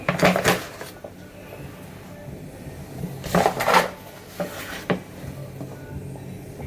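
A scoop digs into a container of dry cream of rice powder while it is weighed out, with about three scoops. Three brief, close scraping rustles are separated by quiet pauses.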